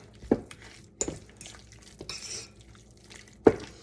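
A spoon works barbecue sauce through pulled pork, giving a few wet, sticky stirs and scrapes with sharp knocks against the pan, close by and with no talking.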